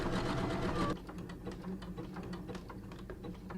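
A sewing machine stitches a zigzag on underwear fabric, first in a loud dense burst, then continuing more quietly with rapid rhythmic ticking, close up and without speech.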